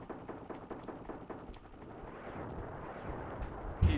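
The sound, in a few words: missiles firing and exploding in the video game Desert Strike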